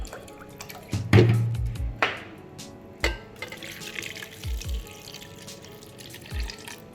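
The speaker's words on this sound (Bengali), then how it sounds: "আর এখন আমি মেপে মেপে এখানে দিয়ে দিচ্ছি 2 কাপ পানি" Water measured out and poured into a pot to make rose water, heard as scattered drips, splashes and short pouring bursts close by in a quiet kitchen.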